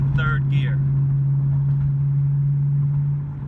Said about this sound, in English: I'm going in fourth gear, and I will drop it to third gear